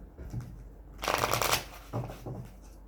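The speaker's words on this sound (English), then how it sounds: "I'm going to draw a card from the Wisdom of the Oracle." A deck of Wisdom of the Oracle cards is shuffled by hand before one is drawn, giving a soft papery riffle that swells into a louder burst midway and then settles into lighter shuffling.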